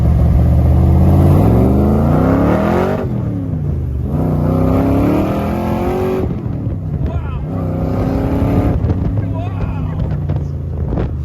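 An old car's engine revs hard and accelerates as it drives, with repeated rising surges between gear changes, loud and close with wind noise, and a voice exclaims over it.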